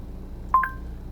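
Dialing tones of a phone call placed through a Kenwood DMX5020S head unit running Android Auto, two quick clean beeps in succession, clear and close over a low background hum.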